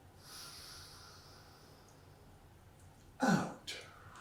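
Slow breathing during a qigong exercise: faint, steady airflow for several seconds, then a sharp, close nasal snort-like inhale and a shorter second breath near the end.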